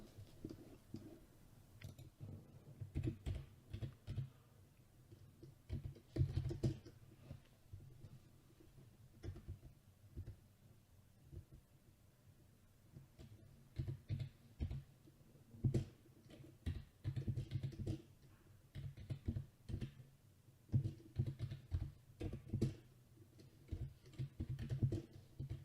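Fast, uneven typing on a computer keyboard, steady bursts of close plastic key clicks with brief pauses, running alone without voices.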